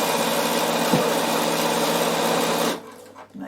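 Sewing machine stitching fabric for a travel pouch, a steady close whirring hum that runs evenly for nearly three seconds, then stops abruptly, leaving faint room noise.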